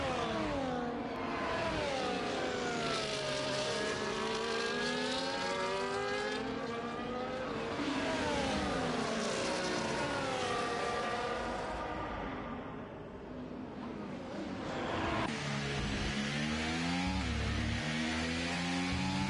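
Onboard Red Bull Formula 1 race car engine at the Singapore race, a loud continuous high-pitched wail rising and falling through gear changes and corners, briefly dropping in pitch before revving hard again.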